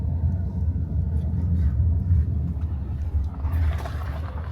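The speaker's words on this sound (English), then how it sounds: "We are in the car right now." Steady low engine rumble and road noise heard from inside a police patrol car driving through Roma settlements in Greece, constant and close, with faint muffled sounds near the end.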